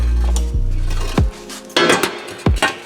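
Welded steel transmission crossmember handled and flipped over on a work surface, giving several sharp metallic clanks and rings spaced about half a second apart, close and loud with no talk.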